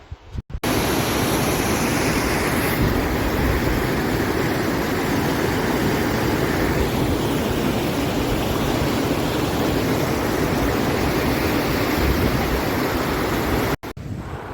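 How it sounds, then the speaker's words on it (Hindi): Rushing flow of the Jagat Sukh river in the Himalayas, a steady, loud broadband roar of fast water that fills the whole span without a break and is heard up close as the stream is crossed. "ये जो धारा की आवाज़ आप सुन रहे हैं"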